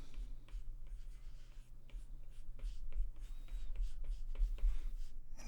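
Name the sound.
stylus drawing on a tablet screen in Procreate Dreams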